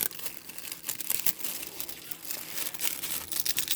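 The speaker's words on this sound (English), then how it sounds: "I hate to even unwrap it, it's so pretty. I'm going to tear it." Paper wrapping on a gift package crinkles and rips in uneven bursts, close and fairly soft, with rustling between the louder tears.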